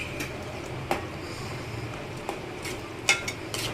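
Torn thepla pieces stirred into simmering dal for dal dhokli, with soft scraping and stirring in a pot, a few light utensil clicks and taps, and a low bubbling hiss beneath.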